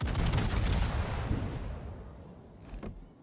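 Naval gunfire from the cruiser Nuremberg in World of Warships during a competitive match: a loud opening boom with rumbling decay trailing off over a few seconds, then a sharper secondary report near the end.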